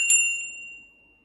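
A single mindfulness bell struck once in a preschool classroom, a bright clear ding that rings on as a steady high tone and slowly fades over about a second, alone with no talking.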